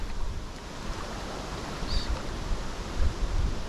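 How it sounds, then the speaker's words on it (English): Wind gusting by a river just below a dam, a soft continuous rush with faint low buffeting on the microphone. "The wind's decided to come another direction."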